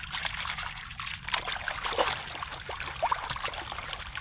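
Water trickles and sloshes as clay-rich material is agitated and washed by hand, giving a close, uneven run of small splashes and dribbles at low volume.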